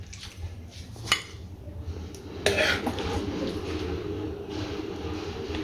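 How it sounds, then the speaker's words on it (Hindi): Cooked boneless chicken handi being scooped from a cooking pot into a serving vessel, with clinking utensil strikes against metal and soft wet squishing under a steady kitchen background hum. "अब बोनलेस हांडी को एक बर्तन के अंदर निकालते हैं।"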